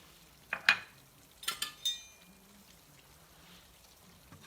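Flour and dried oregano stirred together in a bowl, heard as a handful of short, soft scraping and clinking strokes in two brief clusters before quiet returns; no talking.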